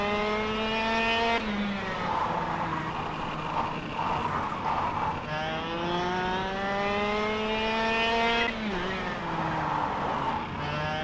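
A simulated racing kart engine in the video game KartKraft drones steadily through laps, pitch climbing on acceleration and dropping sharply on each gear change or lift-off, loud and continuous with no talking.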